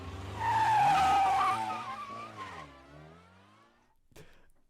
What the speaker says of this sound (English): He's driving my car away.